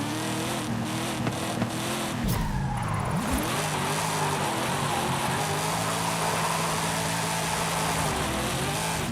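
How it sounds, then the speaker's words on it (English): An American muscle car in Forza Horizon 5 revs hard and slides, its engine roaring continuously while tires squeal through a drift, loud and sustained for the whole stretch. "It's a good drift."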